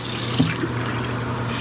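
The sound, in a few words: tap water wetting a makeup brush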